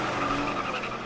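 A Toyota race car burning out in celebration after a win, tires squealing and skidding loudly and continuously over a roaring engine, close and sustained throughout.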